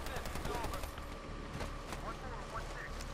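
A robot enemy firing on the player in the military shooter Medal of Honor Warfighter on PS3, with repeated gunshots and rumbling game noise in a short busy stretch, blended with a steady roar.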